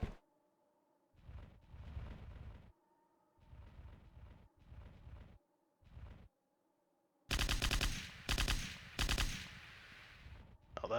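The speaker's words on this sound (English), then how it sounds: "Oh, that's a good machine gun sound effect." Video game machine gun fire comes in short rattling bursts separated by silences, then three louder, denser volleys near the end, with no talking.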